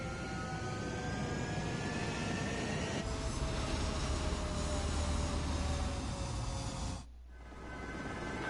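Fighter jets taking off from a runway in the Ace Combat 7 video game, a loud continuous jet engine roar with rising and falling whine that dips briefly near the end, heard alone without talk.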